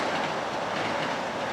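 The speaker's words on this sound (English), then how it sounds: "I'll wait for the train to pass out of respect for the Long Island Railroad" A Long Island Railroad train passes nearby with a steady, dense rushing and rattling roar from the rails, continuous and fairly loud throughout.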